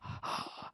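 A singer draws a deliberate, audible breath inward while voicing it, a raspy, wheezy gasp lasting under a second, close and moderately loud with a brief break partway through, during a vocal technique lesson.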